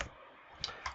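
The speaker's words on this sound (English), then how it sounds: "let me just type something here at the top so it actually" A computer keyboard is typed on, with a few quiet, sharp key clicks spaced apart in a soft, close setting.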